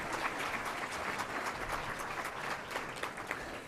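An audience applauds to welcome Alberta Premier Dave Hancock at a public announcement, a dense, steady clapping crowd sustained throughout at even loudness, with no talk over it.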